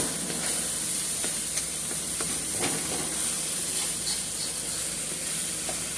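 Sage sausage and Italian sausage frying in a pan, a continuous bright sizzle and hiss with scattered small pops and crackles, close and steady.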